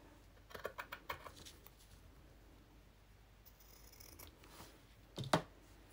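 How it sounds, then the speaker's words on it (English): Scissors snip through lace trimmed to size, a quick run of crisp cuts followed by a couple of louder snips a few seconds later, close by with no talking. "Cut it to size."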